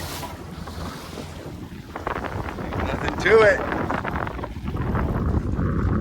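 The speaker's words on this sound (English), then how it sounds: "So we're going to go head on into this wake." A DIY electric skiff boat runs head on into a wake, water slapping and splashing against the hull amid heavy wind buffeting on the microphone, growing louder near the end, with someone speaking briefly.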